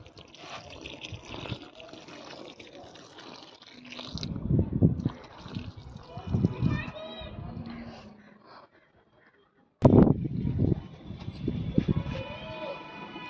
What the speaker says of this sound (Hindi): तो इसे भी मैं पानी दे दूंगी